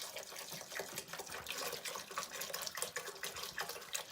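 Water gushes steadily from a tap into a pan of eggplant for Greek-style baked eggplant, a continuous close splashing pour with no talk over it.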